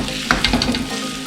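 Grilled potatoes for Bombay saag aloo fry in a hot spiced pan, a loud steady sizzle broken by a few sharp scrapes and clacks of a spoon stirring them in, close and alone without talk.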